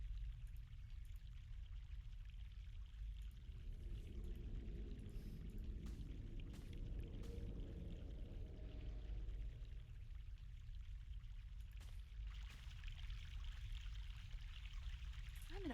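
Fresh mountain water pouring in The Longest Journey game, a steady splashing stream that swells through the middle and then eases back under a constant ambient wash, with no voices.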